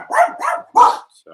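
Dogs barking indoors near the door, three sharp loud barks in quick succession followed by a faint trailing yip.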